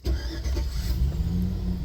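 A 2008 GMC Sierra truck engine cranks briefly and catches, then settles into a steady, close, low rumbling idle with no voices.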